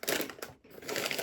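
Close, continuous crunching of smoky paprika potato chips, a busy crackle that breaks off for a brief moment midway and then resumes just as densely.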